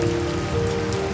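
Steady rain pours down in a dense, even hiss of drops on surfaces, close and continuous, with no voices.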